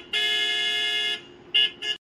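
A car horn sounds outside a house in a cartoon village scene: one loud, steady honk of about a second, then two quick short toots, nearby and alone.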